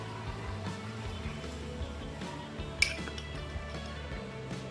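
A teaspoon clinks against a cup as sugar is spooned into homemade cappuccino, with one sharp clear chink standing out above faint intermittent light taps over a low background hum.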